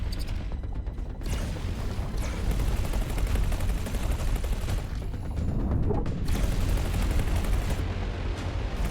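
Turret gunfire in the space game X4 Foundations, a dense rapid stream of shots and blasts with short pauses between bursts.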